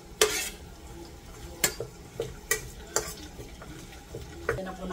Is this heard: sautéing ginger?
yes